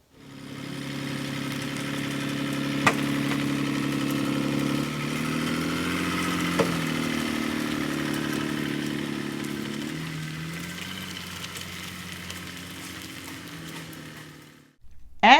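A truck engine idling steadily inside the cab before pulling out of an RV park in Olathe, Colorado, a low continuous rumble that drifts in pitch and eases slightly, with a couple of faint clicks.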